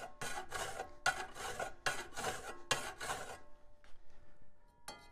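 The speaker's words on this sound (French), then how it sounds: "Il lime alors d'un mouvement rythmé pour obtenir un coin arrondi." A hand file rasps across a metal plate clamped in a vise, rounding a corner in steady rhythmic strokes: about five close, loud scraping passes, then a pause and the start of another.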